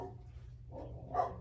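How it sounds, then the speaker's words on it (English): A dog barks indoors, two or three short muffled woofs, moderately loud over a low background hum. "I'm sorry, my dog is so loud"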